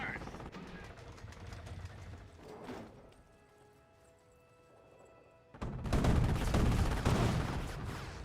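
Gunfire and explosive impacts from an anti-tank gun in the real-time strategy game Company of Heroes, with a sharp loud burst after a quieter stretch and dense battle noise continuing to the end.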